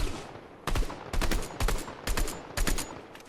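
Rapid automatic gunfire in Fortnite Zero Build, five or six short bursts following one another at a quick, uneven pace, loud and punchy with no talk over them.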